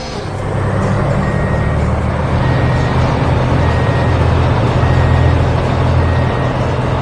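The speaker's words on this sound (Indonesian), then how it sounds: "Lihat itu, truk pengaduk semen sudah datang." A cement mixer truck rolls onto an animated construction site, its engine a loud, steady rumble throughout, with faint intermittent reversing beeps sounding over it.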